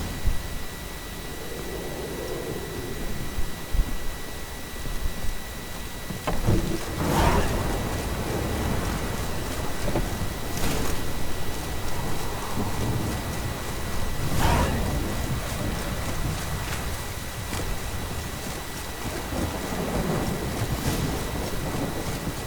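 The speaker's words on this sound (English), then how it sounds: "Storm, damn it." A thunderstorm in The Witcher 3 hisses with steady, heavy rain, broken by several loud rolls and cracks of thunder spread across the stretch, with no voices.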